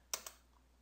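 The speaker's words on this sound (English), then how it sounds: "by typing in P and press enter" Two quick, close keystrokes on a computer keyboard while entering partitioning commands, crisp clicks a fraction of a second apart, followed by near silence.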